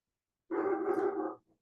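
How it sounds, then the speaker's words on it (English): A single dog bark-growl, close and fairly loud, lasting about a second with no talk over it. "My lovely dog."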